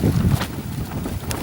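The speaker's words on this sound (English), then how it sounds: "You can hear the wind whipping up now." Wind whips across the microphone on Pendle Hill, a loud, close, rumbling buffet that lasts the whole short moment.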